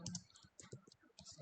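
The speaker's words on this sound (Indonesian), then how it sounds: "Lalu kita ketik nama kita." Quiet clicks of a computer keyboard as a name is typed, short irregular bursts of keystrokes with brief pauses between them.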